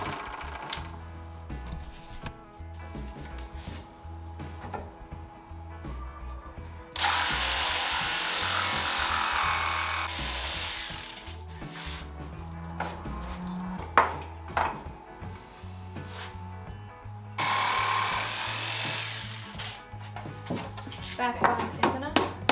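A power saw cuts a kitchen cabinet board in two loud, sustained bursts of several seconds each, with clattering handling noises and a person talking in the quieter stretches.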